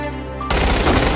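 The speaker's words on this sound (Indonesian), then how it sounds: "terjadi baku tembak antara Hiroji dan pasukan Amerika" Sudden loud burst of gunfire in a World War II Pacific firefight between Japanese and American soldiers, a dense crackle of shots abruptly cutting in after a sustained tone.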